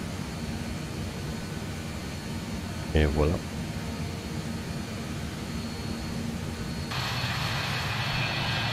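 A steady airliner engine drone in Microsoft Flight Simulator 2020 during a climb, with a brief spoken remark early on and the engine hiss growing brighter and louder near the end.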